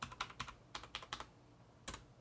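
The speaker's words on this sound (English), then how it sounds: "Type in my password." Someone types a password on a computer keyboard with quick, clustered keystrokes, close and clear, a short burst followed by a pause and one last key press, with no talking.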